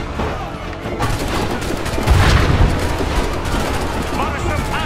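Musket volley gunfire in Assassin's Creed III, a dense, sustained crackle of shots with a louder burst swelling midway, filling the whole stretch under busy battlefield noise.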